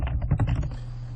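Short quick run of keystrokes on a computer keyboard, close and clear, typed at a Linux terminal to switch to the root user, with a faint electrical hum underneath.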